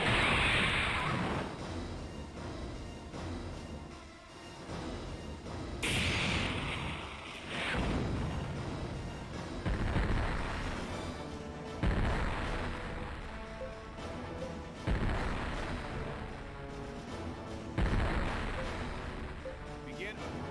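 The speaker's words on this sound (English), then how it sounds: "All guns, set your sights on the enemy vessel ahead and fire." Warship guns firing on an enemy vessel in the space battle game Infinite Space, a run of loud booming blasts every few seconds over a steady mechanical drone, with talk mixed in.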